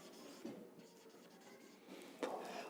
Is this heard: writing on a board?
yes